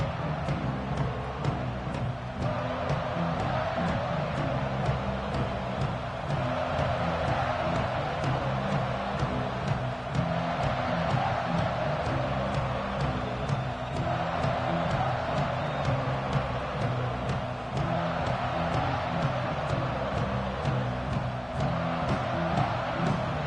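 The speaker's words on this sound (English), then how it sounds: "This crowd ready to make its presence known." A football stadium crowd at an NCAA game keeps up a steady, far-off roar with swelling cheers. The noise fills the whole stretch, and no clear talk stands out from it.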